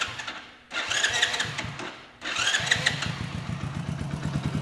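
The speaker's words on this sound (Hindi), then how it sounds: "तो अब मैं बाइक को स्टार्ट करता हूँ" A motorcycle with a freshly tuned carburettor, its screw turned half a turn, cranks twice with a buzzing starter and then catches into a steady, close, thumping idle.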